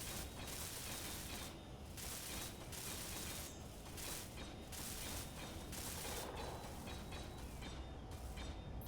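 Welders in Space Engineers make a faint, continuous crackling, ratcheting mechanical noise that holds steady without breaks for several seconds.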